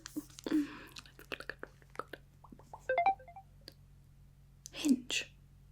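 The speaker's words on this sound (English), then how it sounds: "More notifications. Who could it be this time?" A smartphone chimes with a short run of rising notification tones amid soft close-up clicks and taps, faint and intimate, with whispered speech around it.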